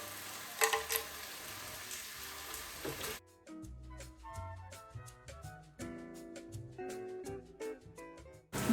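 Whole spices go into hot ghee for pulao, crackling and sizzling loudly at first before the sound drops to scattered spits and pops in the pan.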